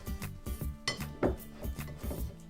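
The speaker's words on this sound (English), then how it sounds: "I'm going to take that off and just tap off the excess off the whisk" A whisk tapped against a bowl to knock off meringue for macarons: a string of about a dozen quick, close metallic clinks in an uneven rhythm, one slightly louder knock in the middle, with no voices.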